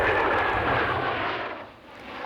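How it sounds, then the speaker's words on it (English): Aircraft arriving for an air show pass overhead with a broad, loud engine roar that eases slightly and then swells again, with no voices over it. "Aircraft for the weekend's air show will begin arriving."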